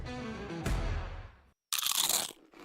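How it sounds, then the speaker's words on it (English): Two loud, close crunches of biting into a crisp nacho chip, the first a crackling bite fading out, then after a brief silence a second sharp, bright crunch, with no talking. "It's the crisp crunch of that first nacho chip."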